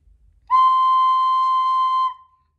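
A high C note on a wind instrument rings out alone, held steady and clear for about a second and a half before stopping cleanly.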